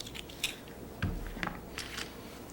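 Close, sharp cutting and crackling sounds as a corkscrew's knife blade slices around the foil on a wine bottle top while the bottle is twisted, a few distinct crisp snips and scratches at uneven intervals, without speech.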